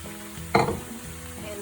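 Tofu with chili powder, grated carrot and beans frying in a pan, a burst of sizzling and stirring that flares loudly for a moment then settles back to a low steady fry.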